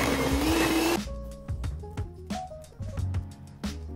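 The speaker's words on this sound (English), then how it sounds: "And then I can start mixing that up now" Electric mixer whirring through banana bread batter with flour, a steady loud drone that cuts off, followed by a series of knocks and clanks of the beaters and bowl, close by.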